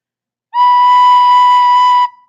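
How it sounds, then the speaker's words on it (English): One clear, steady recorder note B is held for about a second and a half, pure and whistle-like, starting cleanly and stopping with a brief fading tail, alone with no talk. "and that is the note B."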